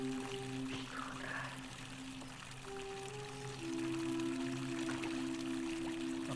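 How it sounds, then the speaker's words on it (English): Fountain water flowing steadily in the video game The Forgotten City, a continuous pouring wash under sustained tonal game music, with no speech. "A fountain producing fresh water"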